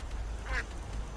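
A single short duck quack sounds in the fantasy role-playing game Skyrim, faint against a steady low background hum.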